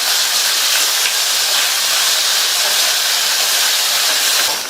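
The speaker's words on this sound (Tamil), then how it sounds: "இந்த ஸ்டேஜ்ல 2 கட் பண்ண சின்ன தக்காளியை சேர்த்து வதக்கிக்கலாம்." Chopped small tomatoes sautéing with a pinch of salt in a pan for a vegetable gravy, a steady loud sizzle and hiss running unbroken throughout with no talking.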